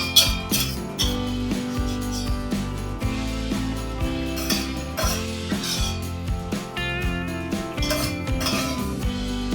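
Ghee-fried flattened rice is scooped from a metal pot onto a plate, with repeated close clinks and scrapes of a spoon against metal in quick irregular bursts throughout.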